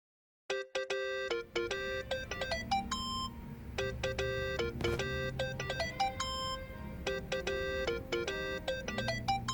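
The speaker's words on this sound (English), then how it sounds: "Think that's your phone, man." A mobile phone rings in the Yakuza: Like a Dragon video game, a bright electronic ringtone melody of repeated chiming notes that plays continuously and loudly over a low background hum, with no talking.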